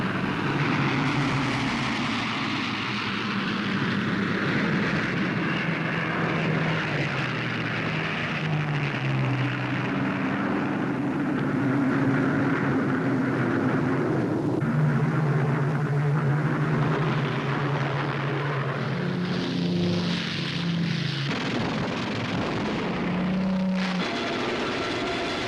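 Continuous roar of massed WWII fighter and bomber aircraft engines, a steady dense drone with shifting low tones throughout, loud and sustained with no speech.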